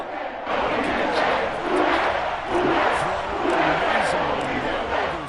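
A stadium crowd in a Madden football video game roars in a steady, swelling wash after a long pass, while commentators talk over the noise.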